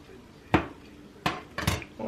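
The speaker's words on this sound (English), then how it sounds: "I think I'm going to cut this bigger one open. It's a little bit thinner. And I have a bread knife that I'm actually using." A bread knife cuts into a thin low carb bagel, giving three separate crisp crunchy rasps at close range, each a short bright burst with quiet gaps between.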